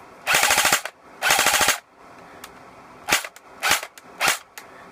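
G69 airsoft gun firing two loud, rapid full-auto bursts followed by three quick single shots, close and crisp, with brief quiet gaps between.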